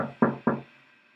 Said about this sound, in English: I don't know what that knock was for